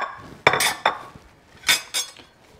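Onions and peppers tipped into a pan of shimmering oil, heard as a few sharp clinks and clatters of utensil against the pan with brief bursts of sizzle between them, close and isolated, no talking.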